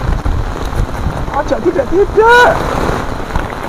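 Rain falls steadily outdoors as a broad hiss beneath nearby conversation, with people speaking briefly in the foreground.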